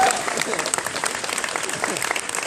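Audience applause at a live comedy show, a full, continuous burst of clapping from a crowd, loud and close, with speech faintly present underneath.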